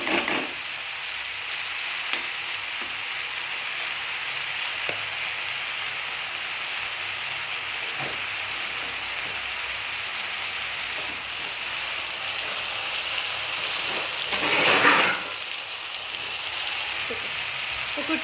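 Tomatoes simmering in hot oil in a pan for an aloo tomato curry give off a steady, close sizzle with a few soft stirs and a louder burst near the end.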